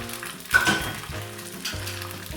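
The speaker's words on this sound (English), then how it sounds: "Then add in your egg slowly." An egg slid slowly into a hot pan and left to fry, giving a burst of sizzling at first that settles into a steady, close crackle with faint clinks of the pan, and no talking.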